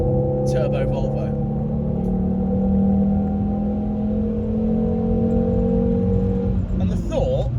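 A five-cylinder turbo Volvo engine in sport mode accelerates onto a fast road, a steady, loud droning hum with rising tones heard from inside the car, briefly joined by a voice.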